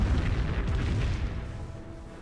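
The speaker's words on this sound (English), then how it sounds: "The Calliope rocket barrage in takes out Pack 38." A Calliope rocket barrage in Company of Heroes booms as a heavy cluster of explosions, loud at first and then tapering into a rumbling tail over about two seconds.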